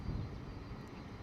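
An airplane on approach to London Luton Airport in wet, windy weather, its engine a steady low rumble with gusty noise, fairly close and continuous.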